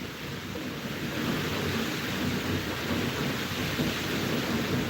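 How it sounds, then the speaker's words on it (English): Light rain starting to drizzle outdoors, a soft, constant hiss with a low rumbling undertone, steady and even throughout. "it has started to drizzle here"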